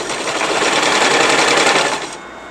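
Sewing machine running steadily as it stitches a petticoat hem, a close, continuous mechanical whir lasting about two seconds before it stops.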